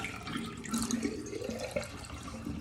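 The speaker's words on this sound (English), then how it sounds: "flush to drain your toilet of all that water that was sitting in there" A household toilet flushes and drains, a steady rush of swirling water close by that churns continuously without pause.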